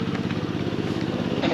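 A tuk-tuk engine in Cambodia chugs with a steady, rough low-pitched throb like a tractor, running continuously and fairly loud close by.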